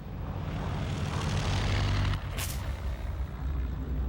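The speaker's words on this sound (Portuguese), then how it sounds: "Tibbets decolou o Enola Gay com habilidade a poucos centímetros do fim da pista." The B-29 bomber Enola Gay taking off, heavy propeller engines roaring in a steady, loud drone with a brief mid-clip dip, no voices present.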